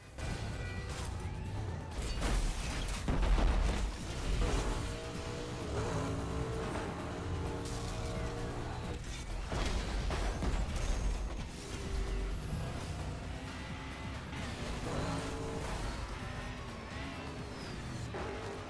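Racing cars roar and collide in Burnout Paradise, with a continuous engine drone broken by several heavy crash impacts and crunching metal, loud and busy throughout.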